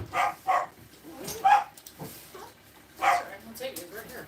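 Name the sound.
dogs barking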